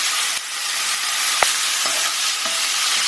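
Broccoli and prawns stir-frying in a hot pan with dark soy sauce, a steady loud sizzle with a few soft stirring clicks and scrapes, close and without talk.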